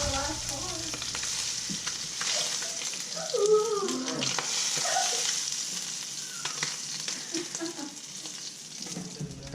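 Gar fish fillets sear in a frying pan, a steady broad sizzle running throughout with a few louder pops and crackles near the middle, close and continuous.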